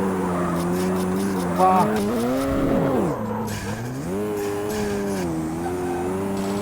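A car in the Street Racing Syndicate video game skids and crashes, with tire squeal and a sweeping engine whine over steady revving, loud and close, while someone talks and exclaims over it.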